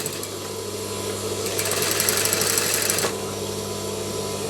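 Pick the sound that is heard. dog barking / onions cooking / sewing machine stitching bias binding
sewing machine stitching bias binding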